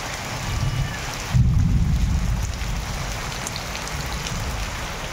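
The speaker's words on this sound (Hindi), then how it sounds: "जोर वर्षा हो" Heavy rain roars steadily, with a low rumbling gust surging partway through before the dense downpour continues alone.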